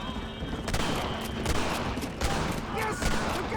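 Red Dead Redemption gunshots, several sharp cracks spread across a few seconds over a noisy game backdrop, with brief speech mixed in.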